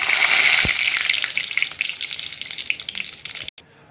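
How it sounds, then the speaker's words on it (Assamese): Cumin seeds and dried red chillies fry in hot oil with a loud, steady sizzle and scattered crackling pops, fading slightly before a brief stop near the end. "জিৰাকেইটা ফটফটকৈ ফুটি উঠাতে দি দিছোঁ শুকান জলকীয়া কেইটামান"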